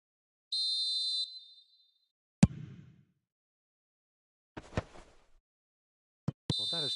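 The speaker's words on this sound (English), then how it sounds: "There's the whistle for half-time." A referee's whistle sounds for half-time in a football match: a shrill blast, then sharp isolated knocks and clatter, and a second piercing blast near the end, with no talk.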